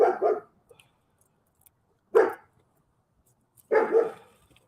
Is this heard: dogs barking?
yes